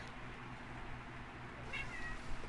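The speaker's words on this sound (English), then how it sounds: "Don't just meow at me." A pet cat named Griffin gives a short meow near the end, fairly faint over a low indoor background hum.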